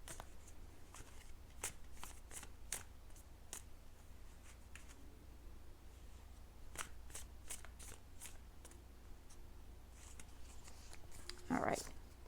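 Tarot cards being shuffled and pulled, soft crisp card flicks and shuffling riffles in a quiet room, intermittent and close, with a brief louder rustle near the end.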